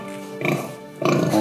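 Pigs on a farm give two close, loud, nasal grunts in quick succession.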